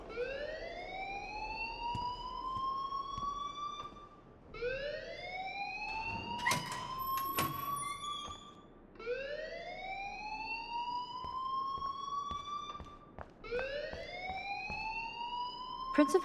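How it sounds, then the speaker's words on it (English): An alarm sounds in a video game school setting, sweeping upward in long, whooping siren-like cycles about four seconds each, steady and continuous with faint clicks underneath. "please turn off that alarm since that's your job"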